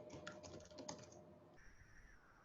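Quick bursts of typing on a computer keyboard during an online music lecture, close and crisp, a cluster of rapid key clicks that stops, leaving a faint steady electronic tone.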